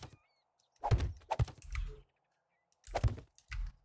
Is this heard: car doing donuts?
no